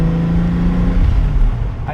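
A 1970 Ferrari 365 GT 2+2 engine cruising on a winding road, a steady close mechanical drone with a slight shift in pitch partway through, no voices.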